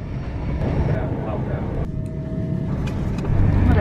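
Steady low rumble and broadband rattle of a train carriage during a long ride, continuous throughout with a slight swell near the end.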